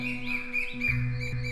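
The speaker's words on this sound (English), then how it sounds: "they did not know anything about the nightingale and its singing." A nightingale sings soft, faint trilling chirps in a green forest beside an emperor's palace, over a gentle sustained musical backdrop.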